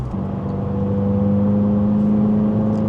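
A 2024 Subaru WRX fitted with a Remark 3.5-inch axleback exhaust accelerates gently around 3,000 rpm, a steady, loud, deep drone with a rising engine tone, recorded close up.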